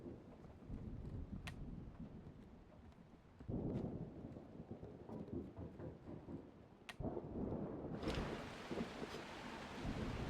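A thunderstorm in the game Static Dread rumbles on at low volume, steady rain and wind noise broken by a few sharp cracks and swelling rolls of distant thunder, with no voices.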